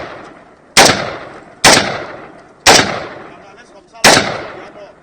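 Four loud, sharp gunshots fired by soldiers in Ambazonia, Cameroon, in 2018. They come about a second apart, each with a long echoing decay, with no talking in between.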